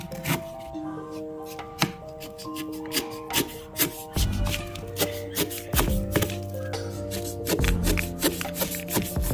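A knife cutting through jackfruit for jackfruit biryani, a series of sharp, close chops and thuds spaced irregularly over several seconds, with a low hum in the background.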